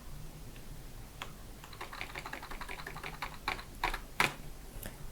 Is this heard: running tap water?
no